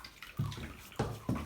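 A toilet cistern refilling after a siphon replacement, the water flow tailing off as a few gurgling surges come through in quick succession, close and fairly quiet, with no talk.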